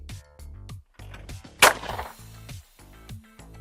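A shotgun fired at a clay target launched from a machine right in front on an outdoor range, one sharp loud blast in the middle, amid intermittent talking and handling noise.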